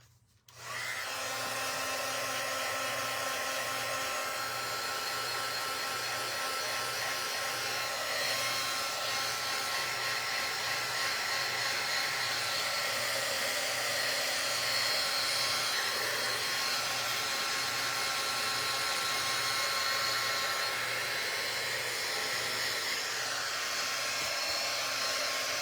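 A hair dryer runs steadily, drying paint on a painted barn craft project, a loud, close, continuous whooshing whine with a low pulsing motor hum. It starts abruptly and holds unchanged throughout.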